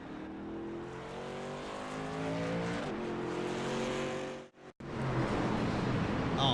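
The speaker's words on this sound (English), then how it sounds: "Oh man, big wreck there." Race trucks at a short track crash in a multi-truck wreck on lap 51, engines roaring loud with shifting pitch, a sharp cut of silence, then tires scrubbing and engines surging again.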